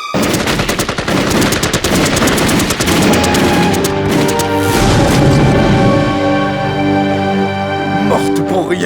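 A firing squad volley in a dramatic audio production: dense, loud rapid gunfire crackling continuously for several seconds with booming echoes, close and overwhelming, easing into a ringing tail.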